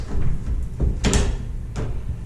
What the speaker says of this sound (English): It's a barn-style latch door.